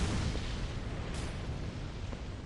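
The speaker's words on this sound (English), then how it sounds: "I don't want to be fighting over the explosion noise for this" Video-game explosions give a loud, broad rumbling blast at the start, then a sustained noisy roar with a sharp crackling burst partway through.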